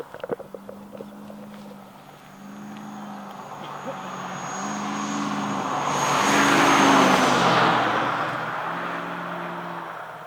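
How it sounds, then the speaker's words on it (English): Fast cars speed past a roadside soccer practice spot, a low engine drone building to a loud, whooshing pass near the middle before fading, with a repeating low hum underneath throughout. "Tell people that drive 100 miles per hour, please stop messing up my audio."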